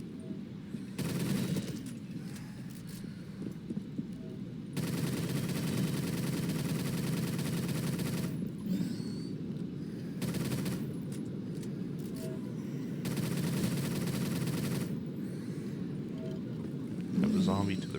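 Weapon gunfire in Black Ops 3 zombies mode: long sustained bursts of rapid automatic fire, several separate runs broken by short pauses, with someone talking over and between them.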